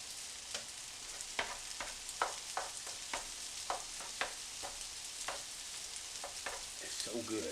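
Shrimp and pork fried rice sizzles in a big Teflon skillet, a steady hiss broken by repeated sharp crackles and scraping stirs.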